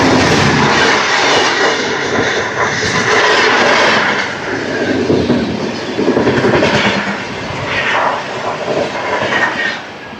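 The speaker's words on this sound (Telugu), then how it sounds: "ఇప్పుడు వెళ్ళింది కదా బండి వచ్చేసరికి 12644 హజరత్ నిజాముద్దీన్ నుంచి తిరువనంతపురం సెంట్రల్ వరకు వెళ్తుంది." The Swarna Jayanti Express, train 12644 running from Hazrat Nizamuddin to Thiruvananthapuram Central, roars past at close range with a loud, steady rush of wheels and carriages and a rhythmic clickety-clack over the rails.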